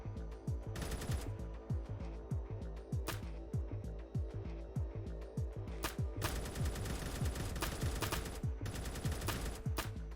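Rapid assault rifle fire in a Minecraft war game, sustained sprays of sharp repeated shots in quick bursts, loud and close throughout with brief gaps between volleys.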